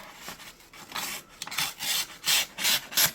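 An AliExpress knife blade, a generic green one, slices through a sheet of paper in a series of close, dry rasping strokes that come in several bursts and grow louder toward the end, with no voices.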